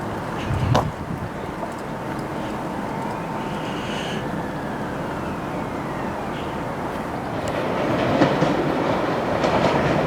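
A two-unit passenger train pulls into a station on the line between Todmorden and Walsden, a steady rumble and wheel clatter rising near the end, with a faint squeal of wheels on rails running through it.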